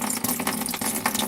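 Water carrying tomato pulp from fermenting tomato seeds poured off into a sink, a short close splashing gush with uneven pulses as the liquid spills out.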